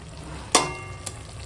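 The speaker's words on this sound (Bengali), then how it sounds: "এবার ভালো করে একটু মিশিয়ে নেবো, ঘেঁটে ঘেঁটে নেবো" A mixed vegetable curry with spinach and prawns gets stirred in a cooking pan, a soft steady sizzle broken by one sharp scrape of the spoon and a fainter second knock.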